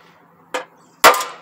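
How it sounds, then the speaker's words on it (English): A ball peen hammer strikes metal on the transmission of a Ford F250 with an E40 transmission, two sharp close clanks, the second louder with a short ringing tail. "So you can take your ball peen hammer,"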